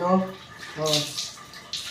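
Water poured over the body during a bath, splashing in short bursts after a voice speaking in Filipino, close by and moderately loud.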